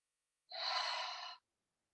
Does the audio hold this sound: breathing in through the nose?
yes